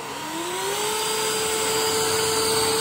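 A Ryobi Swift Clean spot cleaner runs with a steady whirring motor drone and a rising whine as it spins up, continuous and close with no talk.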